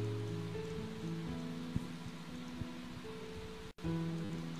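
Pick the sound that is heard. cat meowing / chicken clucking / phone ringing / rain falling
rain falling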